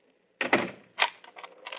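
A bedroom door being locked at night, a short sequence of clicks and knocks from the latch and key, close and distinct against near silence.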